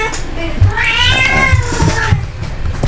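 A cat meows loudly and insistently in a rising, drawn-out cry, close by, with household background noise and no talk over it, during an online class at home.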